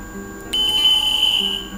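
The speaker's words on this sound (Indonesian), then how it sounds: "Nah, itu beepnya dia langsung mati ya" An HF linear amplifier, model AR500, gives a single steady high-pitched electronic beep at power-on, lasting about a second, then cutting off cleanly against a quiet hum.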